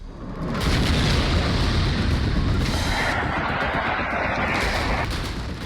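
Onyx missile strike explosion in a Russia-Ukraine war, a loud, sustained rumbling blast roar that fills several seconds with dense low booming and crackle, heard alone with no voices.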